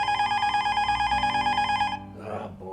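A telephone rings with a steady, bright electronic warble for about two seconds, close and clear, then cuts off into a brief softer rustle.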